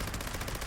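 Gauss minigun with crippling effect firing continuously in Fallout 76, a dense, loud rapid-fire roar with no pauses, heard alone.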